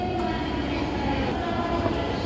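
An airport railway train at Kansai Airport in Osaka, a steady rolling rumble of wheels and carriages with a soft hum throughout.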